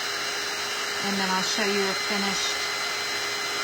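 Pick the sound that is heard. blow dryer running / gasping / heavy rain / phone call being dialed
blow dryer running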